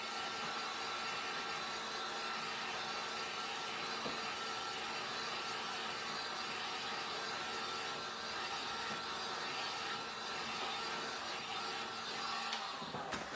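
A drying tool blows air steadily onto a wooden snow globe craft piece, a constant close whooshing drone that runs unbroken and ends with a small knock.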